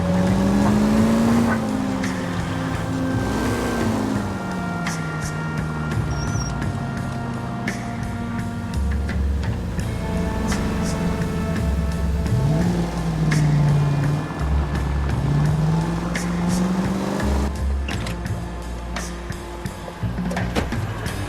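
A car driving through city traffic in the video game L.A. Noire, its engine droning steadily and rising and falling in pitch with acceleration, under a continuous bed of game music and ambience.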